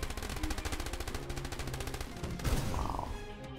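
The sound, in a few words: jackal vehicles firing on troopers in video game Boom Beach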